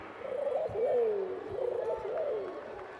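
At a baseball game, a person imitates a rock pigeon with low, warbling coos over a murmuring crowd, rising and falling in a couple of soft, rolling phrases.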